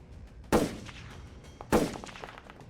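Two loud, sharp rifle bursts fired into a tree ring out about a second apart, each with a quick attack and a short rattling decay, with no voices.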